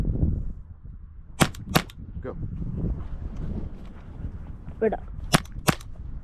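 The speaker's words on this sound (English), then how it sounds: "So shoot your two at the body in the A" Airsoft gun shots fired during stage shooting practice: sharp, loud cracks in pairs, two early and two late, with a single softer shot between, all over a low outdoor rumble while a range officer gives short commands.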